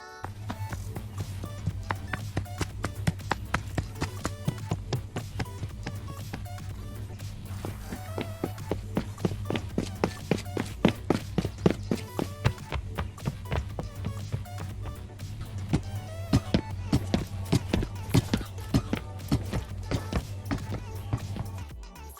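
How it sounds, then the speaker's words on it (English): Hero footsteps from the video game Overwatch, a long run of steady, rapid steps tapping evenly throughout over a low constant hum. "All heroes have unique sounds for their footsteps,"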